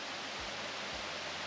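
A waterfall on the Great Ocean Road roars as a steady, broadband rush of falling water, continuous and fairly close, with no voices over it.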